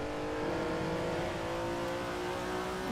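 Ferrari Daytona GTB/4 race car accelerating hard on track at Dijon, a steady, loud engine note climbing in pitch with a continuous close-up drone and no talk.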